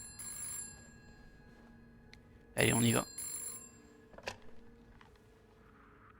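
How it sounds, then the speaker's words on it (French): A telephone rings in the horror video game This Bed We Made, a bright electronic trill in short bursts, one loud ring mid-way and fainter ones around it, while someone speaks briefly. "le téléphone il sonne, j'ai peur"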